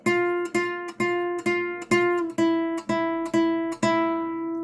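A guitar plucks the same note on the first fret in a steady rhythm, ten clear strikes each ringing briefly before the next, close and alone.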